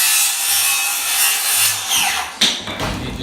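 A piece of wooden trim being cut during a mobile home bedroom renovation, with steady loud rasping strokes that end in a sharp snap near the close, heard up close with no talk.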